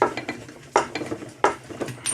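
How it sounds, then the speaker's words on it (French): A handheld plumbing pipe cutter is turned around a pipe, giving repeated metallic clicks and scraping ticks in an uneven rhythm with two louder clanks, close and fairly quiet, without talk. "ça va resserrer la molette et couper le tuyau."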